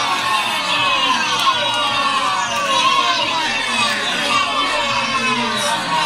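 A crowd cheers as a sound effect, a dense, continuous wash of shouting and excited voices with a child-like brightness, loud and steady throughout.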